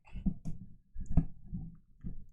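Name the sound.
typing on a keyboard with long acrylic nails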